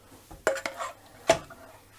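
A spoon scrapes and clinks against a dish while serving toppings onto spaghetti bolognese, a few light, close knocks spread over a couple of seconds in a quiet kitchen.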